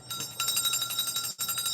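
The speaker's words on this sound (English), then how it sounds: "I'm gonna ring the bell" A bell rung repeatedly in quick succession, bright ringing tones pulsing steadily with a brief break before resuming, fairly faint and alone.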